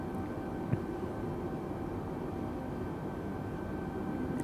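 Unbroken, steady drone of a Cessna 172 in flight, a constant engine and cabin hum with a single faint tick early on.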